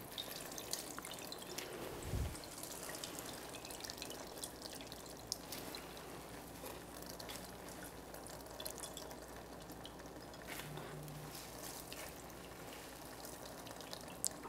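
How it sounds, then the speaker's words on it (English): Liquid drips and trickles out of grated zucchini being squeezed by hand, a quiet, close, uneven patter of drops that runs on for several seconds. "And now it's time to squeeze the liquid out."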